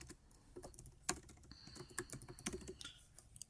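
Rapid, uneven keystrokes on a computer keyboard clatter close by, with no other sound around them.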